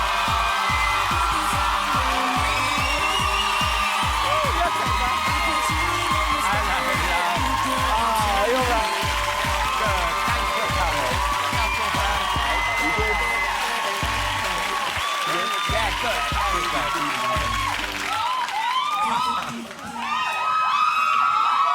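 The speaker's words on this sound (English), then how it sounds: "Don't you ever get tired of that screaming?" Studio audience screaming and cheering for the boy band as they take the stage on a Valentine's Night talk show, a dense, loud, continuous wall of shrieks and applause that keeps going for the full length.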